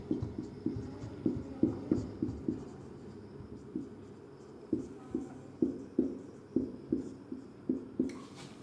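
A teacher writes on a classroom board, chalk tapping and scraping in quick rhythmic strokes with a pause midway, close and clear, with no talking.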